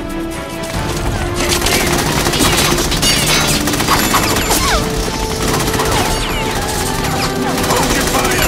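Dense, continuous automatic gunfire rattles through a tense Metal Gear Solid 2 cutscene, loud and relentless with sharp cracks, clattering impacts and metallic pings layered over a steady roar.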